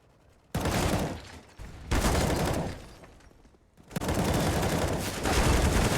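Heavy automatic gunfire from a Counter-Strike match on the Vertigo map in three loud, dense bursts, the first two separated by a short lull and the last running continuously to the end.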